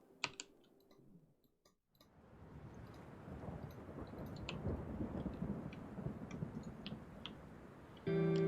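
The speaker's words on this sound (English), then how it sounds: "That's lightning." Thunder from a lightning strike in Minecraft: after a short quiet gap, a low, steady rumble swells and rolls on for several seconds, ending in a brief, sharper tonal burst.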